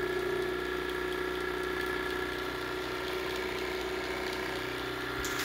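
A 3D printed pulse motor spinning at around 1900 RPM gives a steady, dense mechanical whir with a constant tonal hum and buzzing vibration, loud and close, unbroken for the whole stretch.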